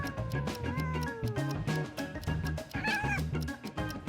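A black cat meowing, with several rising and falling cries in quick succession over a loud, rhythmic musical backing.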